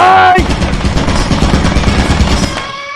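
Rapid gunfire in the video game Lethal Company, a loud, dense rattling burst that runs nearly continuously, with faint voices in the background.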